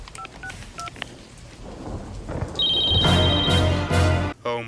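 A telephone dialing in an Even Stevens scene: a few short keypad tones, then a sustained pair of dial tones sounding over a loud rumbling thunderstorm with rain, fairly close and ending abruptly.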